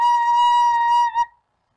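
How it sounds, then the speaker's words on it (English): A single recorder note B, blown gently and held steady for about a second before a brief breathy tail, pure and close with no one speaking. "blow gently into the recorder to make the note B."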